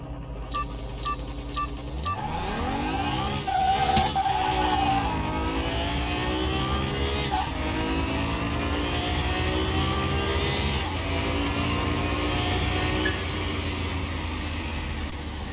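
A race car engine in Car Mechanic Simulator 2021 starts after a few countdown beeps, then roars and revs up steadily through repeated gear shifts, loud and close, continuous for the rest of the run with no one talking.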